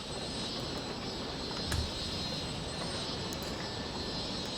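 A cargo plane in the Cities: Skylines game gives off a steady, unbroken jet-engine drone at moderate distance, with a brief low thump partway through and no one talking.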